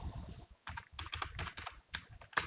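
Fast, uneven keystrokes clatter on a computer keyboard during data entry, close and clear, with short pauses between bursts of clicks and a louder final key press.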